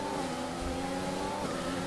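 Formula 1 race car engines in F1 2020, a steady high-pitched engine whine holding a sustained tone with slight pitch shifts as cars run close together on track.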